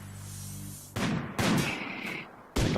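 In Rimworld, several sharp gunshots go off in separate bursts, each with a quick decaying tail, punctuating a quiet background.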